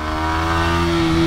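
A 125R motorcycle engine accelerating, a loud, close, steady rising drone with a strong tonal hum and no voices.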